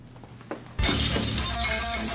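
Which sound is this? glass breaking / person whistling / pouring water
glass breaking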